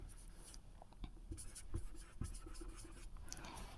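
A sentence being written on a board, soft scratchy strokes and a few sharper taps at an uneven pace, close and quiet with no talking.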